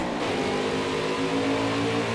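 At the green flag of a road course race in NASCAR Heat 5, a pack of race cars accelerates together, a loud sustained engine roar with rising revving tones, close and without talking.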